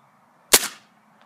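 A Maruzen-made, Umarex-licensed Walther PPK/S airsoft pistol fires one sharp, close, loud shot with a short decaying tail, followed by quiet.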